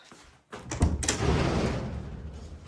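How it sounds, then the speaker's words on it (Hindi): A front door in a home swings open with a brief clunk and thud, followed by rustling movement and room noise, close by and moderately loud. "जाके जो है ना वो दरवाजा खोलते हैं"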